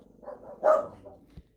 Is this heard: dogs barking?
yes